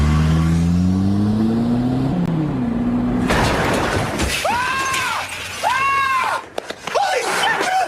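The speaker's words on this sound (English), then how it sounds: "I'm gonna gun this car as fast as it goes directly into that wall" A car engine revs and climbs in pitch as it speeds up, then slams into a wall with a loud crash and shattering debris. Wavering, rising and falling tones and a few sharp knocks follow.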